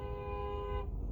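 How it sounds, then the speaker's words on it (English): A car horn blares in one steady, loud tone for about a second, then cuts off and leaves only a low background rumble. "This jackass is just honking."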